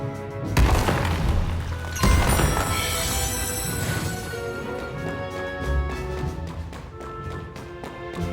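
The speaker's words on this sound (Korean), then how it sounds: "폭발이야! 위글의 폭탄이 터졌을 때보다 훨씬 강해!" In the fantasy RPG Brown Dust 2, an explosive blast goes off with booming impacts and a crashing rumble that rolls on and fades into a ringing tail.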